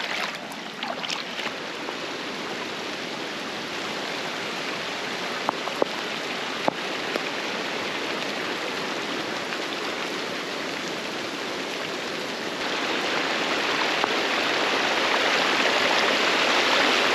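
Floodwater from a bomb cyclone storm rushing under a bridge in a yard, a dense, continuous roar of fast-moving water that grows slightly louder toward the end, steady and close.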